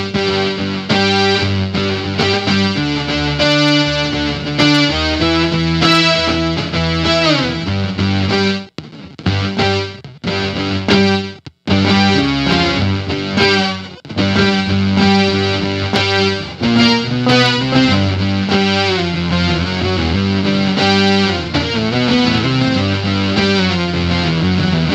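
Electric guitar through an Electro-Harmonix pedal emulating an Oberheim OB-X synthesizer, playing loud, thick, synth-like chords and sustained notes with a few short pauses between phrases.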